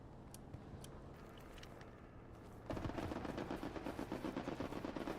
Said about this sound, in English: I hear a tank out here by me